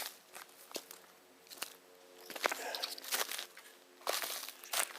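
Small twig bits falling from trees make scattered light crackles and crunches outdoors, irregular and close, with quiet gaps between clusters.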